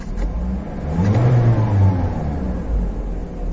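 Toyota Voxy 2022 engine revving as the throttle is pressed, a close rumbling swell that rises and then settles into a steady drone, with no talking.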